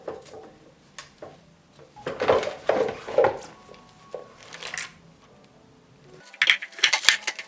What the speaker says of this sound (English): Place the dehydrated apple slices into the largest bowl in your food